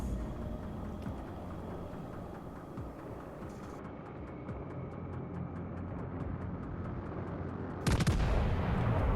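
Naval ship guns fire in World of Warships Legends around the battleship HMS Duke of York, heard as a steady rumbling wash of distant gunfire and engine noise, ending in one loud, close, sharp broadband blast.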